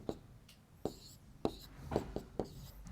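Chalk or pen taps and strokes on a board as an equation is written during a math lesson, a few short sharp marks in quick succession, with no talking.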